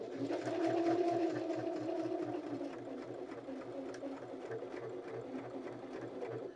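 A BabyLock Zeal BL35B sewing machine stitches steadily with a standard stitch length of 2.5 and width of 5, a fast even mechanical chatter of needle strokes running continuously close up.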